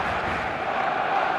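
Stadium crowd roars and cheers continuously in the eFootball Mobile football game, a dense, steady wash of many voices filling the whole moment at a fairly even loudness.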